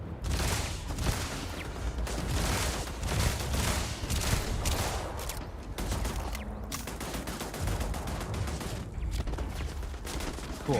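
Rapid bursts of gunfire from a first-person shooter game played with a controller, dense fusillades and machine-gun chatter running loud and continuous with brief lulls.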